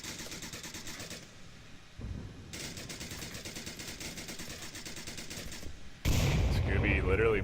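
Rapid bursts of gunfire from blind firing in a tactical shooter video game, sustained sharp automatic volleys filling the clip, louder and denser toward the end, with no talking.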